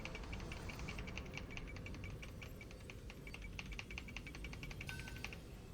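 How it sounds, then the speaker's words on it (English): Rapid, dense mouse or keyboard clicking while playing Genshin Impact, a fast irregular stream of sharp close ticks running throughout over faint game sound. "Can you hear my clicking? I'm clicking as fast as I can."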